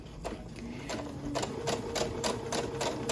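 A sewing machine stitches fabric with its foot pedal pressed gently, running in a steady, moderately close mechanical rhythm of repeated needle strikes with faint background hum.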